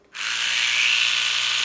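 An Oral-B electric toothbrush switches on abruptly and runs with a steady, bright, high-pitched buzzing whine, close and constant for over a second.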